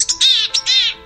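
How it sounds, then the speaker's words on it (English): A gray-headed chickadee (Poecile cinctus) gives a loud, close call: short chip notes running into two longer buzzy, raspy phrases, heard alone. "It's Peaceally Cinctus, the richly brown-capped, gray-headed chickadee."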